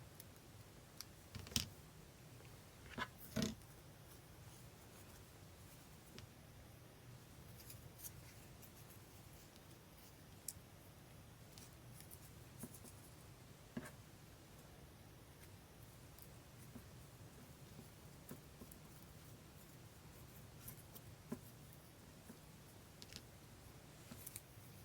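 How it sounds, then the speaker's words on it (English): Scissors snip paper for a junk-journal collage in a Moleskine daily journal: a few faint, sparse cuts and clicks in a very quiet room. "I'm gonna cut this little bit off right here."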